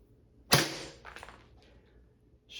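A single sharp slap of a hand striking a block of tofu and hitting the table edge, loud and close, followed by a short fading rattle in a quiet room.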